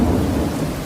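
A night thunderstorm brings a deep, continuous rumble of thunder blended with the steady hiss of heavy rain, loud and close throughout the brief moment.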